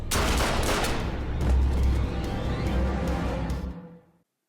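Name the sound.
gunshots in the TV show Lucifer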